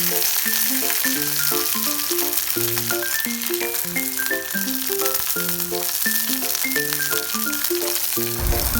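Curry leaves and green chillies fry in oil with a continuous sizzling hiss, partly buried under prominent melodic background music.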